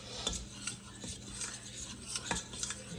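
A whisk scrapes and taps against a pot as butter melts inside for clam chowder, giving a quick, irregular run of soft metallic clinks and rasping strokes close by, with no talk.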